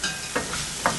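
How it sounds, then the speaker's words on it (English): Bok choy sizzles loudly in hot oil in a pan, a dense continuous frying hiss punctuated by a few sharp scrapes or stirring clacks, close up with no speech. "we're going to add the bok choy."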